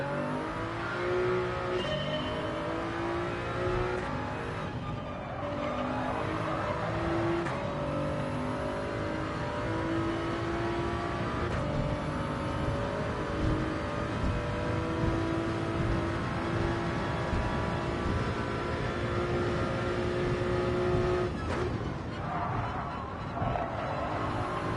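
Racing car engine accelerating after a shift into third gear, a loud steady drone with rising and falling harmonic whine through the gears, sustained and close throughout.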